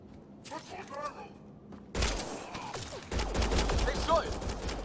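Gunfire in the sci-fi shooter Mass Effect: Andromeda, with scattered shots giving way to dense bursts of rapid fire in the second half, mixed with thuds, game effects and voices.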